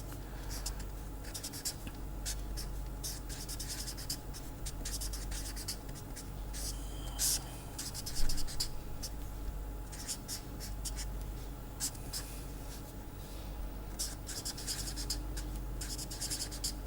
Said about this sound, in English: I will just write it a bit quickly out here.